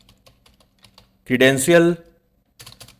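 Someone types an Excel formula on a computer keyboard while setting up a broker API data sheet. Close, light key clicks run steadily, broken by a short spoken word partway through.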